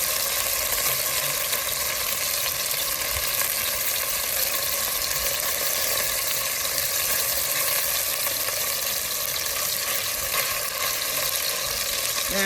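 Seasoned beef browning in a Dutch oven for stew, a loud, dense, continuous sizzle with faint scraping as the pieces are turned over, no talking.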